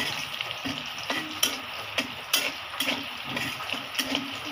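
Food frying in a pan sizzles steadily up close while a utensil stirs it, with regular scraping knocks every half second or so as the food browns.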